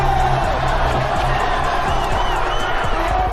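A rap battle crowd cheering wildly, a dense, continuous roar of whoops and shouts with some clapping, loud and sustained.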